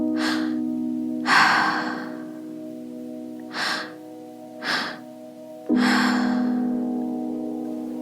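Slow, rhythmic breathing for breathwork meditation: five deep, airy inhales and exhales spaced a second or two apart, close and clear over a steady low drone of soft background music.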